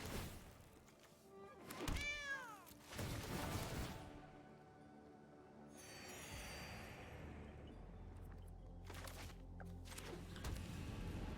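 Cats meow in a digital card game, MTG Arena, as a Chariot card full of cats attacks: several drawn-out, rising and falling meows near the start, then thunks and a softer caterwauling cry over game chimes.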